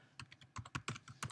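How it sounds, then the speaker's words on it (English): Fingers tap on a computer keyboard, a quick irregular run of about a dozen crisp, close keystrokes, faint and with no voices. "I'm just having a hard time with typing"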